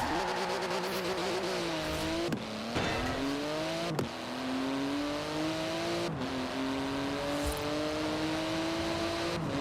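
Car engine at high speed in Forza Horizon 4: a loud, sustained engine roar climbs steadily in pitch through each gear, broken by quick dips at the gear changes, with faint rushing road noise underneath.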